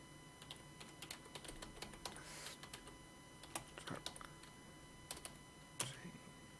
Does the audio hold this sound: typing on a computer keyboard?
yes